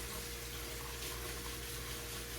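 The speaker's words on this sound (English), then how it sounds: "over in the sink over here, I'm going to get some really, really hot water" Very hot water pours from a tap into a kitchen sink in a steady, close, unbroken rush, with no voices over it.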